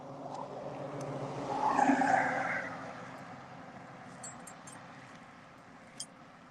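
A car sweeps past outside on the road, swelling and fading over a couple of seconds, followed by quieter traffic hum and a brief sharp click, with no talk.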